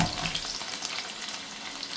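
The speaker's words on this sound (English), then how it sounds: "some green chilies, and you just need to fry those so they're aromatic" Fresh chopped ginger, whole garlic cloves and green chilies frying in oil, a dense close sizzle with steady crackle and occasional stirring, loud and continuous without talk.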